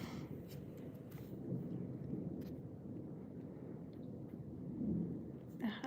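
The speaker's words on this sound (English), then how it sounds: "the thunder is right over us, or the thunderstorm" Thunder from a storm directly overhead in middle Tennessee during high winds and a tornado watch: a low, rolling rumble that swells and fades over several seconds, fairly faint, with light rain-like hiss behind it.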